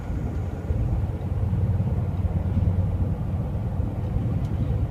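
A car driving along a road past run-down houses, giving a steady, close low engine and road rumble that holds level throughout with no talk.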